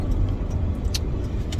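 Car driving home from the store, a steady low rumble of road and engine noise throughout, close and continuous with no talking.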